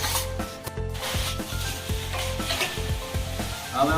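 Trowel scraping and slapping plaster onto a brick wall on a building site, with rhythmic rubbing strokes and a low steady hum underneath.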